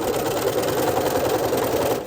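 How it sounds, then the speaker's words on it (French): Sewing machine stitching elastic onto underwear, a fast steady run of needle strokes with a mechanical whirr for about two seconds, close and alone. "Je couds. Je tire. Je couds."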